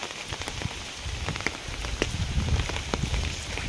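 Rain falls steadily and close, a dense patter of drops on a hard surface that never stops through the short stretch.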